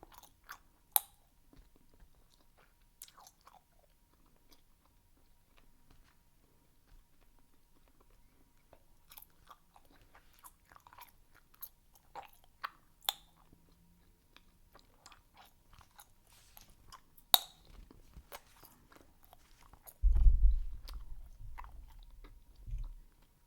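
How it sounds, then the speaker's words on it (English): Three pieces of Bazooka bubble gum are chewed close up, with soft, sporadic wet clicks and smacks over near silence, then a louder, thicker burst of chewing at the end. "Three pieces of gum is hard to chew."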